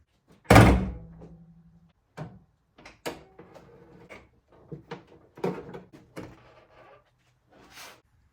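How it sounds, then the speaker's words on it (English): Car hood being popped open and handled on a VQ-engined car in a garage: a loud, sharp latch clunk followed by scattered lighter knocks and rattles, close and without talk. "Now I'm going to pop the hood"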